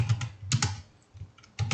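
Someone types an address on a computer keyboard in quick, irregular clusters of close, light keystrokes with short pauses between them, alone.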